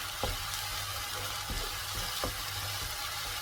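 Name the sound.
paneer gravy masala sautéing in a pan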